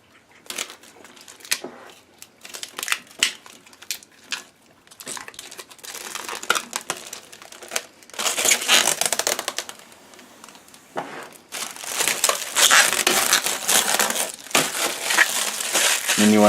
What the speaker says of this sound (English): you want to peel the plastic off